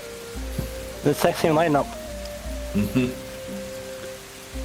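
Rain ambience outside a fantasy inn, a steady hiss of falling rain running throughout under a speaking voice and a low sustained musical tone.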